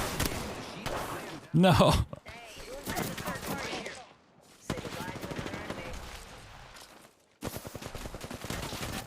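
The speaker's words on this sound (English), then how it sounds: "I am taking fire, friends." Rapid video game gunfire from a Tomb Raider match, with bursts of shots and a loud cluster of rounds near the middle, mixed under someone talking.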